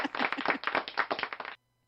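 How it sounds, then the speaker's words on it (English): At a radio show bingo game, a small group applauds a winner with quick, dense, soft clapping that stops abruptly after about a second and a half. "How about another round of applause,"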